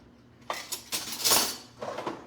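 A tablespoon is pulled from a drawer of cutlery, giving a few quick metallic clinks and rattles in close succession, fairly quiet and close, with no voices.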